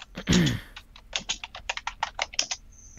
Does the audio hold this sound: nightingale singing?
no